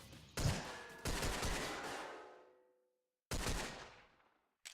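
Repeated pistol shots in a video game, loud and close, with a burst of rapid fire ringing out and decaying, a pause, then another sharp shot and the start of one more.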